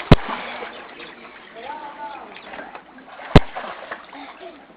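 Someone dives into water with two sharp, close splashes a few seconds apart, with softer sloshing and voices talking in between.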